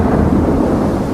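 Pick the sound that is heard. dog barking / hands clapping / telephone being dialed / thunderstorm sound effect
thunderstorm sound effect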